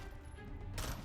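A CZ Scorpion EVO 3 A1 fires a short burst in the Fallout 4 video game, a quick rattle of shots that is faint and brief, lasting about a second.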